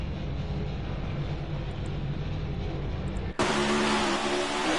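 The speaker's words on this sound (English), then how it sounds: "Massive, massive crash." A car crash in an online racing video game league: steady engine and road roar, then a sudden loud burst of harsh grinding, scraping noise that keeps going to the end.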